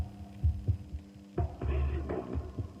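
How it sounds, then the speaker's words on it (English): A synthesized heartbeat-like pulse thumps in soft double beats over a steady electronic hum, then swells into a louder, denser throb. "I know it's not the first time we've heard a heartbeat in music, but it's not really a heartbeat"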